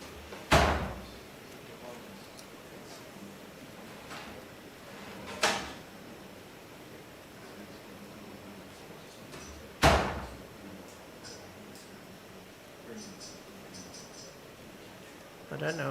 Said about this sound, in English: I don't know if you get that door noise when it opens and closes at home, but we certainly get it in here